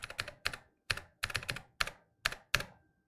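Keys clacking on an RK Royal Kludge typewriter-style mechanical gaming keyboard, eight distinct clusters of crisp, close keystrokes in an uneven rhythm, some single and some in quick double or triple presses, with brief silent gaps between.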